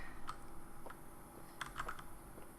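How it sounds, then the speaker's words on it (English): Computer keyboard typing during PC Building Simulator play, scattered sharp clicks in small bursts over a quiet hiss, faint and fairly close, with no talking. "Really loud keyboard, there we go"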